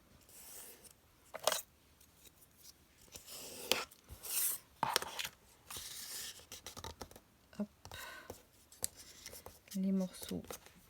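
Paper strips being folded over one another and creased to make a small decorative pouch, with scattered rustles, scrapes and taps, close and quiet, amid pauses.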